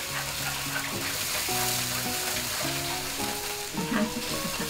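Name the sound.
honey and dark soy sauce simmering until thick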